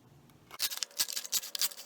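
Scissors snip through a plastic soda bottle in a rapid series of crisp, crackly cuts, close and fairly loud after a brief quiet start.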